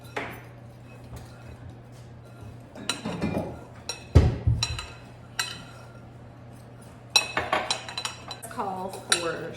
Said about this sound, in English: if you want to use the fork there and just kind of gently blend that together